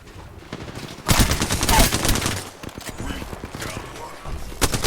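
Gunfire in the Apex Legends video game: bursts of rapid automatic shots, loud and dense, rising sharply, easing, then flaring again near the end, with a voice talking underneath.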